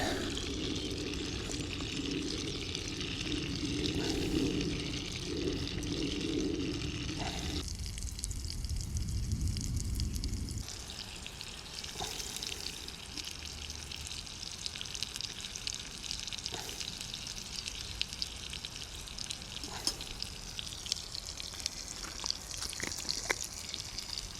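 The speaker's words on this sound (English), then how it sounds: "Now that's bubbling away nicely. Stick the mushrooms in." Water bubbles steadily in a Trangia mini pan over a camping stove, then mushrooms go in and sizzle as they fry, with occasional pops and drips throughout.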